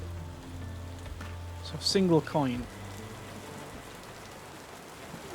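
Steady rain patters continuously in the tavern management game Tavern Keeper, a soft even hiss throughout, while someone speaks briefly partway through.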